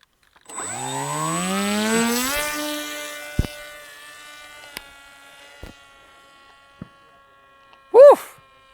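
A solar-powered radio-controlled airplane's electric motor spools up into a rising, high-pitched whine as it takes off, then holds a steady tone that gradually fades into the distance, broken by a few sharp clicks and a brief loud burst near the end.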